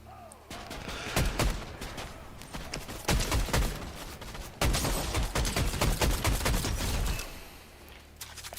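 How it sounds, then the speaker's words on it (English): Dense bursts of gunfire from a Fortnite match, rapid overlapping shots and heavier blasts filling most of the stretch, loud and near with a brief lull partway through. "Someone's shooting at us."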